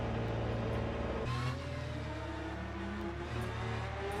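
Race cars in the sim racing game Le Mans Ultimate, engines droning steadily up close with a shift in pitch partway through as the car changes gear, continuous throughout.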